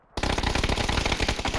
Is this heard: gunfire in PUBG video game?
yes